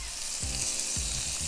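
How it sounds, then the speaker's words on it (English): Butter melts and sizzles in a single pan for chicken and sausage baked macaroni and cheese, a steady close frying hiss with periodic low bumps as the pan or butter is moved. "So add the butter to the pan, get this butter nice and melted."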